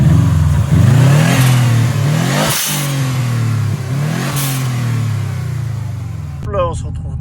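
A 2002 Subaru WRX STI fitted with a dump valve revs hard, its engine note climbing and falling through several loud sweeps, with sharp hissing bursts as the throttle is released.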